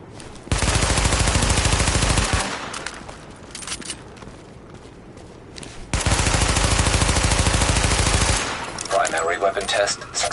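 Gunfire from a weapon test in a PS4 video game comes as two long, loud bursts of rapid automatic shots, with a quieter stretch between them and some speech.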